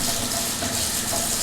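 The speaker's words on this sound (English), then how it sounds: "let me wash this off" Water runs steadily from a kitchen tap as something is rinsed off while homemade pizza is being made, a soft continuous splashing hiss with no talk.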